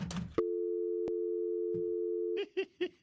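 A steady electronic phone line tone holds for about two seconds after a dropped phone goes on air during a radio broadcast, followed by a few short clipped beeping bursts.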